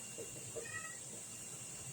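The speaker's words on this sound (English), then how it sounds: "my cat is calling me" A pet cat meows softly a few times, short faint calls over a steady background hiss in a quiet room.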